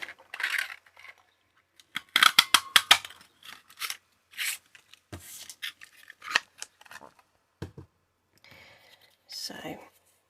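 Scissors snipping espresso-coloured card into shapes for stamping, with quick bursts of close, crisp cuts and a few paper rustles, separated by short pauses.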